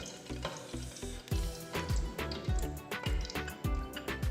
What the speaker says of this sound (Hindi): इसमें मैं इलायचियाँ और लौंग डाल दूँगी। इसको थोड़ा सा करकराएंगे, मीडियम फ्लेम पे पकाएंगे।